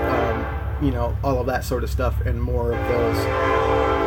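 A passing train sounds its horn in a series of loud, sustained blasts over the rumble of the cars, while a person keeps talking over it.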